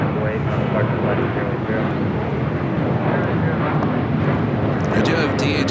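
An airliner roars down the runway on takeoff at LAX, a loud, broad, continuous engine rumble, with radio chatter from the control tower running underneath.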